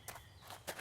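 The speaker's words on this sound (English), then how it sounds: "you can hear your footsteps changing based upon the" Footsteps in the Minecraft modpack Au Naturel, with the step sound changing by surface material; three quick, soft steps at an uneven pace, fairly quiet and with no talk.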